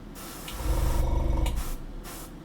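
A short blast of airbrush spray hisses loudly for about a second over a low rumble, fading into softer background hiss, with no voices.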